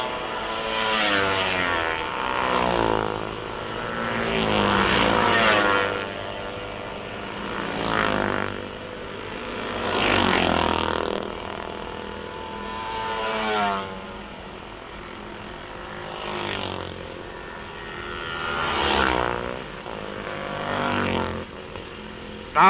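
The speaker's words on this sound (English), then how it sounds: "Now you can listen to the riders as they pass" Road-race motorcycles pass one after another, each a loud engine roar that swells and falls away in a rhythm of about five or six passes, with no talk over them.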